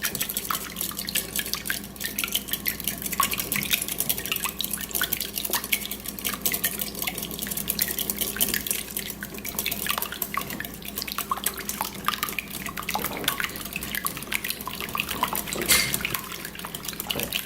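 Eggs being beaten in a bowl for a Southern pecan pie, a steady, continuous clatter of utensil against the bowl running through the whole stretch, close and fairly busy, with no talking.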